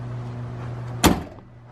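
A Can-Am Maverick X3 X RS side door shuts once with a sharp, solid clunk midway through, over a low steady hum that fades slightly afterward.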